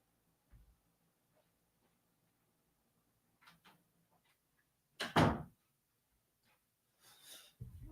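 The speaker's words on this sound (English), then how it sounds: "Let me just close my door here." A room door closes in a quiet room. A soft bump comes first, then faint rustling and a sharp, loud thud. A second, quieter knock follows near the end.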